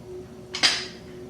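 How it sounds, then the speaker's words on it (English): Homemade beef stew with broth being ladled from the pot into a bowl in a home kitchen, heard as one sharp, close metallic clink with a short ringing tail over a faint steady hum, with no talking. "So now I'll put a little of this beef stew in a bowl."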